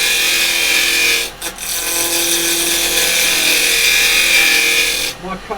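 A carbide chisel scraping wood on a lathe gives a steady, loud, gritty rasping whine with a short break partway through, then stops abruptly near the end.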